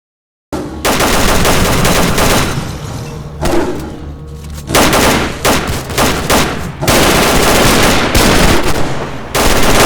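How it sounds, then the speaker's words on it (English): Heavy automatic gunfire in a video game battle, dense loud bursts of rapid shots with thuds and crashes, briefly easing before resuming in sustained volleys. "we're taking heavy fire from an unidentified enemy"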